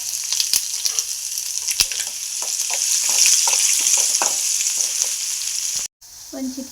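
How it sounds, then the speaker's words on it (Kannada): Mustard seeds, onion and curry leaves fry in hot oil for North Karnataka girmit, a close crackling sizzle scattered with sharp pops and stirring clinks, cut by a brief silence near the end; no talk. "ಸ್ವಲ್ಪ ಸಾಸಿವೆ ಹಾಕಿ ಚಟಪಟ ಅಂದಮೇಲೆ ಉಳ್ಳಾಗಡ್ಡಿ ಕರಿಬೇವು ಸೇರಿಸ್ಬೇಕು ನೋಡ್ರಿ"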